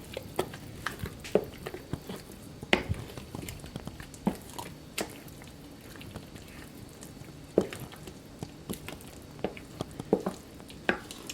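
Banana ginger bread pudding batter being mixed, with irregular soft wet clicks and taps of the utensil against the bowl repeating close by for several seconds, no talk.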